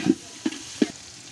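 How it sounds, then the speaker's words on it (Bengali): Rice with a little tomato sauce being stirred and fried in a pan, three soft scraping strokes over a steady low sizzle, close and alone with no talking. "এখন আমরা টমেটো সস দিচ্ছি, সামান্য একটু টমেটো সস ইউজ করেছি আমরা। এখন ভালো মতো মিক্সড করে নিচ্ছি।"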